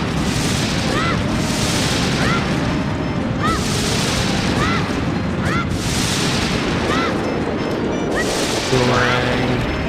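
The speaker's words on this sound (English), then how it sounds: "Now he's gonna just shoot some lasers at us" Repeated laser blasts from a boss battle in the video game Ocarina of Time, a randomizer run, bursting every second or so over a dense, loud game soundtrack with booming effects.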